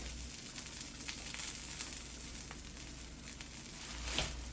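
An egg frying in a pan on a home breakfast stove gives a soft, steady sizzle and crackle with faint scattered pops, fairly quiet throughout.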